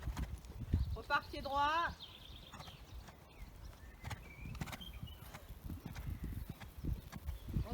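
Horse hooves thud on an arena surface as the horse shifts between trot and canter, giving an irregular drumming rhythm under a rider's coaching voice and brief speech.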